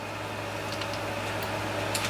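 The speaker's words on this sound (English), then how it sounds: "Now I'm running the window air conditioner in the background here," A window air conditioner hums steadily in the background indoors in an off-grid setting, a constant low drone with faint ticks and no talking.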